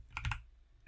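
A few computer keyboard keys tapped in a quick cluster, close and fairly soft, then a single faint click after a short pause.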